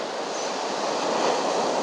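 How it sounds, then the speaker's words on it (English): Ocean waves rolling in and breaking on a beach at sunset, a steady broadband wash of surf that swells slightly toward the end, with no voices. "Just going to wait for the right waves to roll in"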